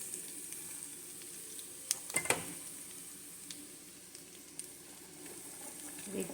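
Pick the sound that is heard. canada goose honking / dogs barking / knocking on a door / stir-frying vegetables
stir-frying vegetables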